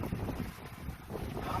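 A sailboat under sail with its engine switched off, crossing the Gulf Stream toward the Bahamas; steady wind rush buffets the microphone over a continuous wash of water against the hull.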